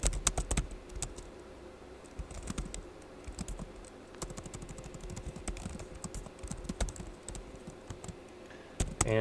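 Rapid, irregular clacking of keys on a computer keyboard as code is typed, close and steady for several seconds with brief pauses and heavier keystrokes at the start and end.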